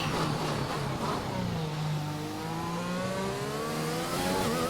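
A McLaren race car's engine in a racing game revs and shifts steadily while taking the Singapore Sling corner at Singapore, pitch climbing and falling in a loud, continuous whine, no talking.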